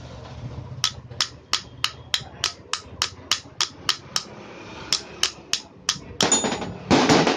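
A hammer strikes the bearing of an exhaust motor in a steady series of about fifteen sharp metallic blows, evenly spaced and close. A rougher, noisier clatter follows at the end.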